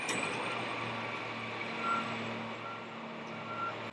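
Steady, rapid reversing beeps from a curbside recycling collection truck, heard at a moderate distance over a continuous engine rumble and idle drone, with no voices.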